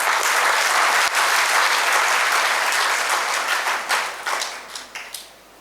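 Enthusiastic audience applause at a Tamil gathering, dense clapping from a crowd that holds strong for a few seconds, then thins out and fades to a few scattered claps.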